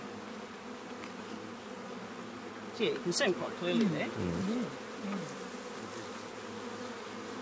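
Steady buzzing of honeybees on a hive frame, with a big drone among them, hums close and continuous throughout while a person talks quietly over it partway through.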